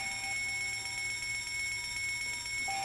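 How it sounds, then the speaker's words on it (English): An electronic alarm sounds in the video game Fallout: London after a docking port is opened. It is a steady, continuous ringing tone with layered high pitches, droning unbroken with no speech over it. "We open the way through, an alarm goes off"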